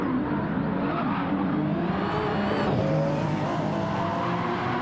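A race car in a WEC Road to Le Mans racing video game at the Nürburgring runs off track in a big moment, its engine roaring loud and steady with a tire skid, with no talk.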